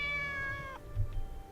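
Monet, a kitty in the game Corpse Party: Book of Shadows, lets out a single drawn-out meow that fades quickly, followed by low soft background noise.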